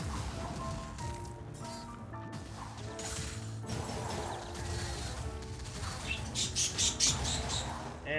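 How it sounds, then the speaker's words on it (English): In the video game Wizard of Legend, an excitable bird gives brief high chirps late in a busy stretch of game sound, where crashing hits and clattering effects sit under a layer of music. "And there goes an excitable bird."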